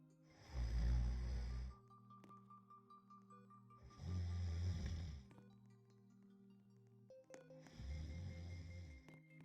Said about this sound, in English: They even made him snore.